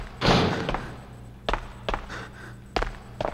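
Door being broken down in the Resident Evil Outbreak game: a heavy initial crash followed by several sharp separate thuds and knocks spaced about half a second apart, close and punchy against a low background hum.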